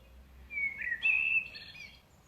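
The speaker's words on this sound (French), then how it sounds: "Visualisez-vous entouré d'oiseaux qui chantent." A few bird chirps and short whistled calls, fairly close and clear, rising in a brief burst over a quiet background before trailing off.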